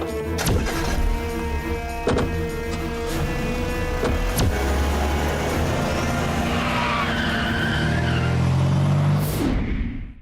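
A police car pulls away near a station, its engine revving with tyres screeching and skidding, loud and close, then fading out abruptly at the end amid dramatic accent hits.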